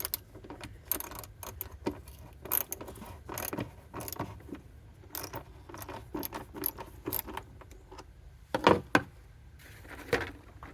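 Ratchet tightening a stock air intake fitting on a car engine, a close series of quick metallic clicks and clatter in irregular bursts, with one sharper louder clack near the end and no talking.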